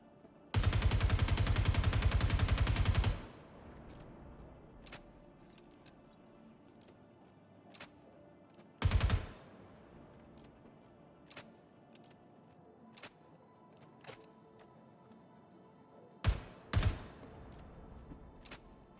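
Weapon clips are emptied in the video game Star Citizen: a dense, loud burst of rapid automatic fire lasting a few seconds, then scattered single shots and short later bursts over a quiet background, no talking.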